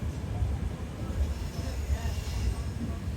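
A Prasanti Express passenger train hauled by a normal locomotive, heard from on board as a loud, steady low rumble of wheels and carriages with faint squealing, continuous throughout.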